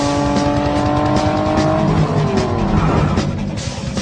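A cartoon car speeds along a road, its engine roaring loud and steady throughout with tire screech and whoosh effects layered in, no talking.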